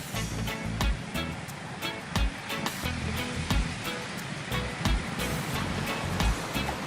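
Ocean surf at a yacht club on the Balboa waterfront, a steady wash of breaking waves with repeated sharp splashes and thumps rising over the rushing water, fairly close and fairly loud.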